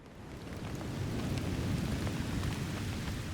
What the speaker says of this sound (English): a steady, heavy rain fell over Philadelphia